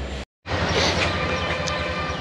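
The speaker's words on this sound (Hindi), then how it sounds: "ये नज़ारा है कुछ चारों ओर का रेलवे स्टेशन का" Busy railway station in Siliguri with a steady wash of crowd and train noise, low rumbling throughout and a faint distant horn-like tone, interrupted by a brief cut to silence near the start.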